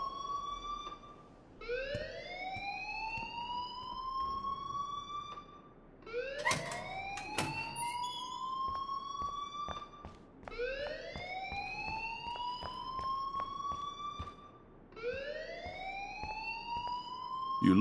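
A rising-and-falling alarm siren wails in the video game Life Is Strange, sweeping upward in repeated cycles at steady loudness, with no one speaking over it.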